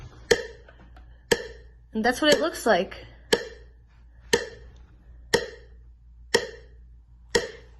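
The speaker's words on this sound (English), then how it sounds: "that was a metronome, and it was set to 60 beats per minute" An online metronome set to 60 beats per minute ticks steadily once per second, crisp and evenly spaced, with a short stretch of talking breaking in between the early clicks.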